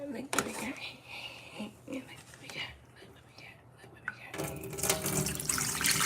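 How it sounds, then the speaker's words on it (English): Water pours off onions being washed, a soft splashing and trickling that swells into a louder rushing pour near the end, with quiet whispery sounds earlier. "So now I'm just pouring the water off, this top water."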